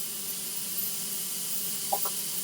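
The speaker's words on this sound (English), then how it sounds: "I'm trying to let that steam get out of there, y'all." Steady broad hiss of steam venting from an Instant Pot pressure cooker in a home kitchen, loud and continuous throughout, with a faint brief tonal chirp near the end.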